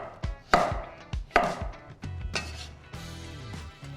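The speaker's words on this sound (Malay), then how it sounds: "Kentang kita potong wedges ya" A knife chops potatoes into wedges on a board in about a dozen sharp, close knocks, uneven in spacing, with no talking.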